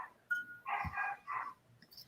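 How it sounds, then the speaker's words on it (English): A dog barks several times at strangers arriving home, sharp bursts close by with short pauses between them, picked up faintly through a call. "Can you hear my dog?"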